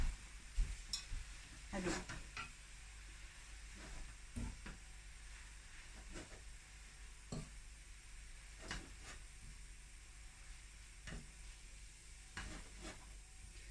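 Rice vermicelli in oil in a home kitchen, with soft sizzling under scattered utensil scrapes and clacks, fairly quiet, and a brief exclamation from a voice.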